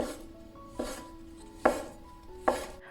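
Knife chopping leftover croissant dough scraps into small pieces on a board: four separate firm cuts spaced under a second apart, close and clear, with faint background tones between strokes.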